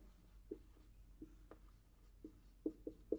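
A pen writing a Hindi term by hand during an agriculture lecture on insect control: faint, scattered scratching strokes and light taps in a quiet room, with no talk.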